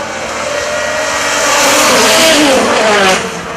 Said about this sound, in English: Audi versus Audi. Doug Gore versus Doug Maloney. It's a drag race to the first corner.